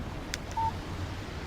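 A phone text message alert in the video game Alan Wake: a short electronic tone rings out once, faint against a quiet background.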